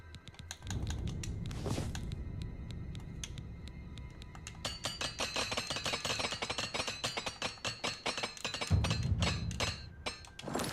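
Repeated metallic hammer taps from repairing a weapon with a repair hammer in Oblivion Remastered, a dense run of sharp clinks and thunks over several seconds, loud and close with no talking.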